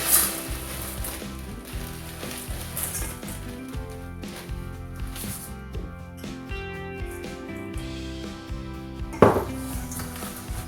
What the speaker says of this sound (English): now we're just going to mix it with the ginger biscuits that we've just crushed.